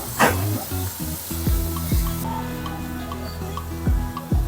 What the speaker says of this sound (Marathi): मिक्स करून घेऊया सगळ्या फोडणीमध्ये